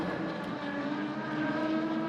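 Production sedan race cars, including a big Commodore, roaring around a clay dirt track, a continuous distant engine drone holding steady for a couple of seconds.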